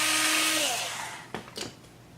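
A power drill boring holes in QuadLugs frame parts, a loud steady whine that winds down and stops, followed by a couple of short sharp clacks as the part is handled.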